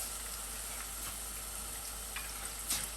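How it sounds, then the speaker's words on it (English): Filet mignon searing in a hot pan, a steady, even sizzle close to the microphone with a faint low hum beneath and a few small crackles near the end. "So we're going to sear this"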